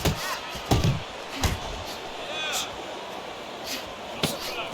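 Boxing punches land in the video game Fight Night Champion, with several thudding impacts at irregular intervals, the heaviest early on. They sit under ongoing commentary and crowd noise.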